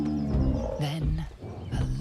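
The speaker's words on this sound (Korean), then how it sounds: "곰 같은데." A deep growling roar from a bear in the video game Baldur's Gate 3, loud and close, rumbling over about two seconds with rising and falling snarls.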